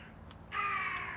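A crow caws loudly and close by in one sustained, harsh call lasting most of a second, following a brief fainter note and low background rumble.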